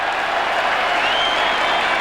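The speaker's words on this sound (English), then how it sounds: "the crowd applaud the effort" A football crowd at a 1990 Glenelg versus Port Adelaide match applauds a first mark, a steady, dense wash of clapping and cheering that holds evenly throughout.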